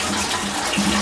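Water running steadily into a bathtub, a close, continuous rushing wash with no pauses and no voices.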